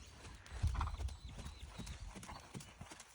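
Horse hooves trotting in a steady two-beat clip-clop while circling close around a trainer, moderately loud with light ambient noise and no talk.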